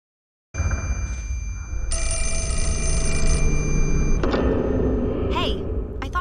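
A telephone rings continuously at close range as a steady electronic ringtone with a sharp click partway through, and faint chirps near the end.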